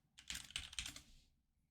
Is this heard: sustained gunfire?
no